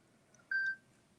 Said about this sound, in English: there I got the notification